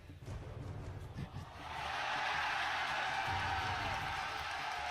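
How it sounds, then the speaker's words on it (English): An esports arena crowd at an NA LCS 2015 League of Legends match between C9 and TSM chants in unison, the roar swelling halfway through into a loud, sustained mass of voices. "They're chanting Do It."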